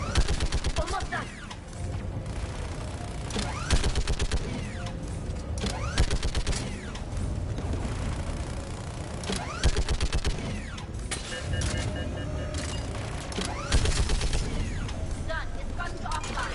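A large gun fires in Mass Effect, sending rapid, dense bursts of gunfire and booming impacts over a steady mechanical din, with a voice speaking in the mix.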